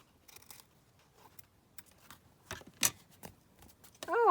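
Scissors trim the edge of book-page paper for a junk journal pocket, giving a few soft, close snips and crinkles, with a brighter paper rustle near the end.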